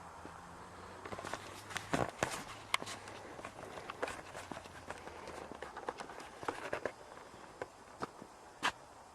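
Footsteps sound in a quiet building during an investigation, a run of light, irregular taps and scuffs that continue throughout at a moderate distance.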